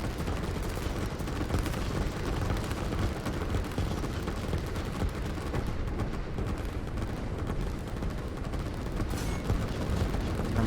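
Battle in the video game Line War, including a nuke going off, heard as a dense, continuous rumble of explosions and gunfire that stays loud and unbroken throughout.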